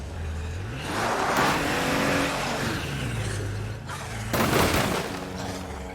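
A car in State of Decay 2 drives hard, its engine droning and rising in pitch through repeated gear shifts, swelling into a loud roaring surge near the end, with no talking.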